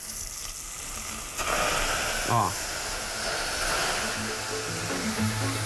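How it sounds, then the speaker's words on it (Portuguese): Water dripped into a hot pan of frying chicken bursts into a loud, steady sizzle and hiss that swells and holds, with a brief exclamation from a voice partway through. "eu vou pingar um pouquinho de água na panela e vai subir uma fumaceira aqui"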